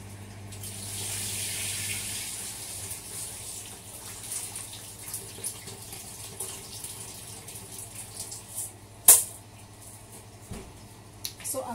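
Rice is rinsed under running tap water in a kitchen sink, a steady close stream with swishing and a sharp clack near the end, while a person talks.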